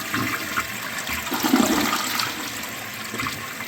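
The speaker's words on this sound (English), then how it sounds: "Let's see what kind of flush it gives" A toilet flushes after a small service call, a strong rushing swirl of water that swells mid-flush and then tapers, loud and close with no talk.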